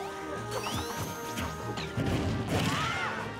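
An up smash attack landing in Super Smash Bros. 4 on Wii U, a sharp crash-like hit among quick whooshes, clanks and game effects from a Sonic versus Toon Link match.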